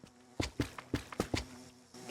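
Bees in the Minecraft video game give short, repeated buzzing pulses, about half a dozen bursts in irregular rhythm, close and clear, without talk.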